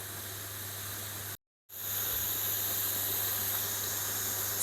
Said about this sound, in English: So now it has definitely come to a head of steam, and we will let it vent for 10 minutes.